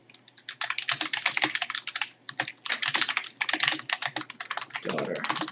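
Close, brisk typing on a computer keyboard, with irregular bursts of rapid key clicks and brief pauses, alone with no voice.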